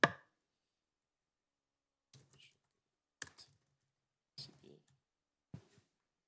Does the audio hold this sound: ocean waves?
no